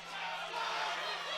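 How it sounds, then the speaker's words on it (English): A crowd at a caged fight in a dome arena cheers in a broad, sustained roar that swells slightly, heard alone for a brief moment. "this crowd is loving every minute of the action here at the Dome"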